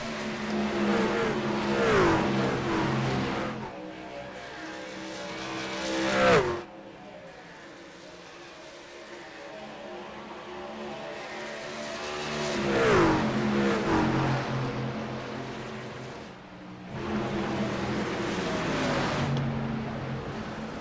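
Racing trucks in a sim racing game at Atlanta, engines screaming past in repeated waves, each pass swelling loud then cutting off sharply, with quieter droning stretches between.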